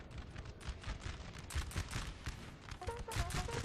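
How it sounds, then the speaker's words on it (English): Artillery and musket fire from a Napoleonic battle in Napoleon Total War pound out in dense, irregular volleys of cracks and booms, with several loud bursts overlapping in a continuous barrage. "they've decided to just pound this house of artillery"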